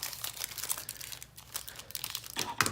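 A small packet of glue dots and tape from a Paper Pumpkin papercraft kit is torn and opened up close, with uneven bursts of crisp plastic crinkling and rustling and no voices.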